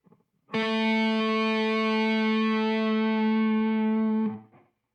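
A sustained electric guitar note A played on the 7th fret of the E string, held for about four seconds with slight vibrato, bright and harmonically rich with effects, alone without talk.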